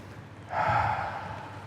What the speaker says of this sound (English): I'm going to invite us together to take these 4 breaths